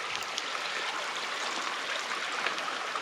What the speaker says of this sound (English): This is Shadow Creek, I believe. We're gonna be kind of following this creek